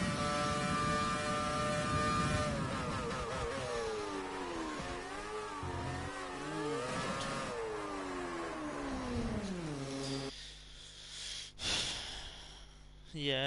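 A 2007 Ferrari's engine revs and whines through gear changes while overtaking in a racing video game, rising and falling in pitch over several seconds, then cutting to quieter whooshes, with game audio heard loud and close.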